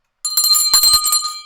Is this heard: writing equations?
no